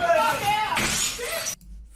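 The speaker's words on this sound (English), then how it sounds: "but there is a lot of glass being thrown here." Glass thrown and shattering in a Waffle House, a burst of breaking and scattering shards amid shouting voices, loud and chaotic before falling quiet.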